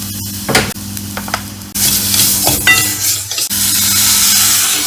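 Chili garlic paste dropping into a pan of frying onion and green chilies, a loud bursting sizzle that swells and then holds steady, with a few clinks and stirring scrapes before it.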